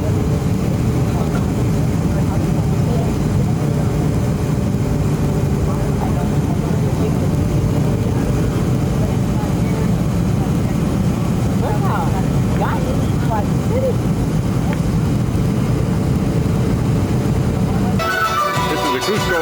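An airliner's engines drone loud and constant from inside the cabin as the plane comes into Cusco airport in the Peruvian Andes, a heavy low hum throughout with faint voices, ending in a brief rattling shift.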